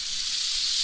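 A pressure cooker on a camp stove at a primitive mountain campsite gives off a steady, bright hiss of escaping steam as it builds pressure, continuous and fairly close throughout the short moment with no voices.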